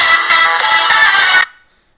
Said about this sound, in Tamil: என்னுடைய 2 இமெயில் ஐடியுமே இந்த மொபைலில் கனெக்ட் ஆகிருக்கிறதால இந்த மொபைல்லேயே சவுண்டு ப்ளே ஆகுது